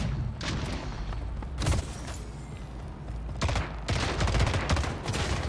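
Shotgun blasts in the video game Splitgate, several loud booming shots in quick succession with sharp bursts and rumbling tails amid other game gunfire.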